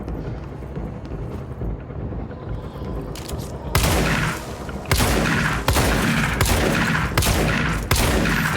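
Rapid bursts of gunfire in the video game Control, loud repeated shots in quick volleys after a quieter stretch of background game noise.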